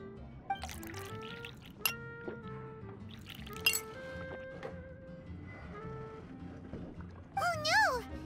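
A glass being filled with fruit juice and clinking in the Genshin Impact video game, soft pouring and light chimes under spoken character dialogue and game music tones.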